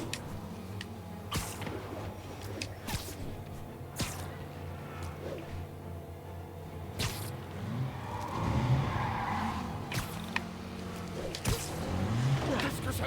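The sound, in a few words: car skidding and tires squealing in video game Marvel's Spider-Man Remastered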